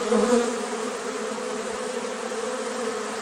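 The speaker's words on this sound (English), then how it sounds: "No, that's a wasp swarm." A swarm of wasps drones in a dense, continuous buzz close by and fairly loud, the hum holding steady throughout without any voices.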